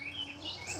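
A backyard chicken lets out a faint, brief chirping call, soft and high, over a quiet outdoor background.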